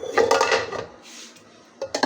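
A metal cooking pot for rice being handled in a home kitchen, giving clattering, scraping clanks up close in a short burst, a brief pause, then a couple more knocks.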